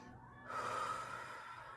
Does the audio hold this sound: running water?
no